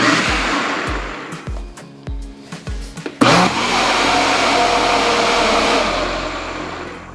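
A kitchen blender pulses an egg mixture, several short loud motor bursts in a row followed by one longer sustained whir that gradually slows, close and dominant.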